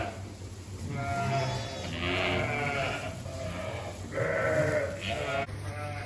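Ewes and lambs bleat in a pen during lambing season, several overlapping wavering calls near and mid-distance over a low hum.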